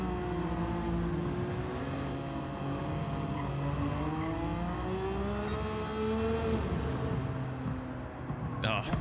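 Race car engine in Gran Turismo 7 roars steadily through a tunnel, its sustained rising and falling tone echoing loudly with a sharp burst near the end, under a speaking voice.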